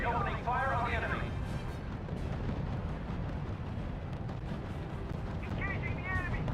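Artillery barrage in the strategy game R.U.S.E., a dense stream of heavy booming blasts rumbling continuously under the battlefield din, with game voice chatter and radio-style announcements at the start and end.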